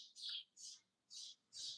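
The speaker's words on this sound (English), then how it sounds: "you hear the birds getting louder and louder" Birds chirp outdoors in four bright, evenly spaced bursts, fairly close and clear, with no other sound between the calls.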